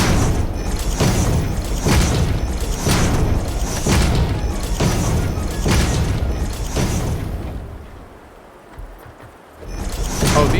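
Explosions in the video game Satisfactory boom loudly in a steady series, about one per second, for roughly seven seconds before fading to a quieter lull.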